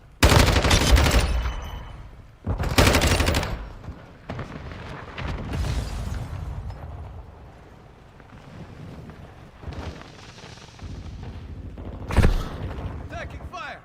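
Gunfire in Call of Duty Modern Warfare II: loud broadband bursts of automatic fire near the start and again around three seconds, a later sharp shot, with explosions and battle noise rumbling between.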